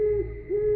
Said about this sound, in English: he could hear these owls hooting loudly in the distance